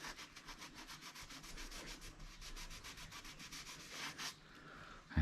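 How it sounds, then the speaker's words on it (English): A whisky barrel's wooden staves are rubbed up and down along the grain with quick, rhythmic back-and-forth strokes, close and fairly quiet, ending in a short pause and a soft knock. "Just rub it up and down the grain like that."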